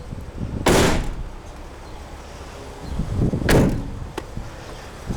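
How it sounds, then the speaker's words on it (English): A 2019 Mercedes-Benz Sprinter 4x4 cargo van door: two loud, close thuds of the panel shutting, about three seconds apart, with a faint click after the second and quiet background between. "Everything closes up nicely. And you got a sliding door here."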